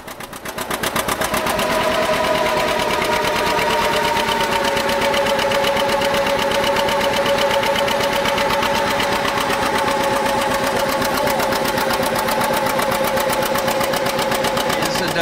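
John Deere B two-cylinder tractor engine running under load on a dynamometer at a tractor expo, a loud, rapid, even popping exhaust beat that sustains steadily after a quick start.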